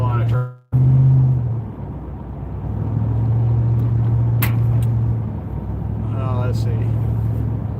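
Steady engine rumble from inside a vehicle with a broken windshield driving on an Alaska road, punctuated by occasional passing noises, with someone talking over it.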